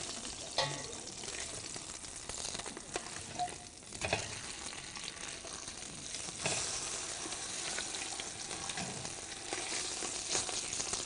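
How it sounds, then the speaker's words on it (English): Food sears steadily in a heavy-bottomed pan, a dense continuous sizzle and crackle with occasional louder pops and brief scrapes as it is turned with tongs, close and fairly loud with no voices. "So as it's searing, let's see if we're getting somewhere now."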